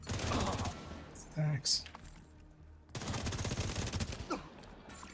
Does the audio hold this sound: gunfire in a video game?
yes